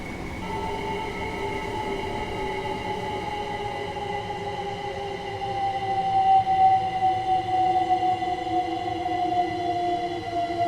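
A train in Train Sim World 3 rolls along with a steady low rumble and sustained tonal hums, one tone gliding gradually downward as it slows, growing slightly louder midway, with no speech.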